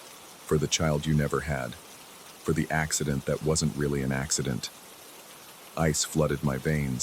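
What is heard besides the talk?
rain falling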